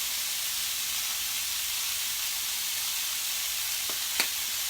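Meatballs seasoned with pepper and garlic salt fry and brown in a pan, a steady even sizzle with a couple of brief clicks near the end, no voices.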